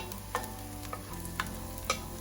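Chopped onion frying in a pan over lowered heat for mushroom chicken in wine sauce, a steady low sizzle with a few sharp clicks of a spoon stirring against the pan.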